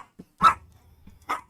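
A dog in World of Warcraft, in a 1.12.1 single-player setting, lets out a small yip and then two loud, close barks about a second apart, with nothing else around them.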